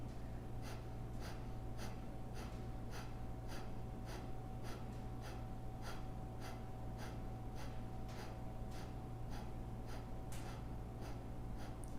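Kapalabhati yoga breathing during a live vinyasa class: a steady run of about twenty-five sharp, forceful nasal exhalations at an even quick rhythm, close and moderately loud over a low steady hum.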